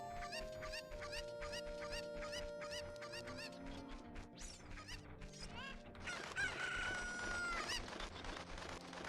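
A rooster crows and chickens cluck in The Legend of Zelda: Ocarina of Time, heard as repeated bright calls over steady game music, loud and close throughout.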